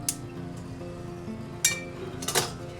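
A metal spoon clinks against a serving dish as black-eyed peas are plated, with a few sharp, close clinks over about three seconds: one early, one mid-way and a double strike near the end, above a low steady kitchen hum.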